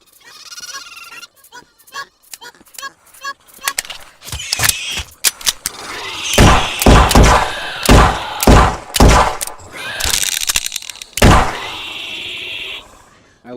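A revolver in a dinosaur survival game fires repeatedly at raptors, sharp loud reports in irregular bursts mixed with thuds and creature bleats and shrieks, after a quieter stretch of animal calls.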